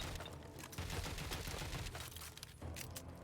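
In the video game Watch Dogs Legion, a hidden gun fires a berserk dart, giving a quick burst of sharp, clattering cracks followed by brief gaps and another crackling flurry, moderately loud with no speech.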